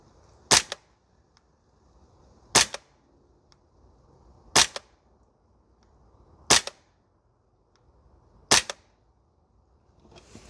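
An Archwick APC9K Pro gas blowback airsoft gun fires five single shots at an outdoor range, each a sharp crack spaced about two seconds apart, with quiet breeze between them.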